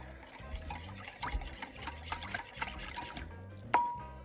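Liquid ingredients with food coloring are stirred and mixed in a bowl, a steady wet swirling with repeated scraping strokes, close and alone, ending in a sharp clink.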